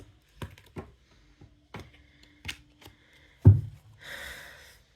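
Tarot cards are handled during a reading: scattered soft taps and flicks of cards slipping and being set down, one heavier thump, then a brief papery riffle as the deck is shuffled.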